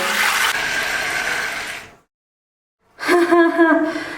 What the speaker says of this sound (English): I can just turn that switch and have a hot shower